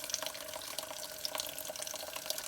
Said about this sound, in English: you can always turn the sprayer on, which I don't have my faucet nearly on full